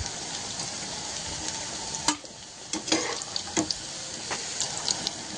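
Alu vadi, colocasia leaf rolls, sizzle in hot oil with a steady loud frying hiss. A few scattered clinks and stirring knocks break through it.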